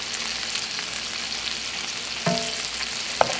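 Meatballs sear in a pan over medium-high heat, giving a steady, even sizzle throughout, with a couple of brief clinks from the pan or utensil.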